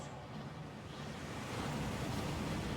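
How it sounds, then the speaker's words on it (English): A waterfall in Hogwarts Legacy gives a dense, steady rush of falling water, broadband and continuous, swelling slightly louder toward the end, with no voices. "That waterfall washes away all enchantments."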